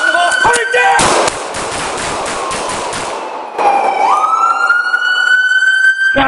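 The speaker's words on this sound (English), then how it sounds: "Shots fired, roll medical" Several sharp gunshots crack close by during a police confrontation, clustered in a quick burst. A steady, wailing siren-like tone follows, with faint shouting underneath.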